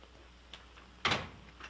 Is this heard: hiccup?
no